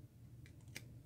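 Scissors snip paper for a gilded autumn mini slim treat box, giving two or three quick, close, crisp cuts in a quiet room.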